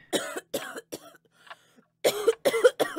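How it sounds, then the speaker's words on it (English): Harsh, guttural coughing from another room of a house, several loud hacking bursts in two clusters with brief throat-clearing sounds between them. "From the living room, a harsh, guttural coughing reached us."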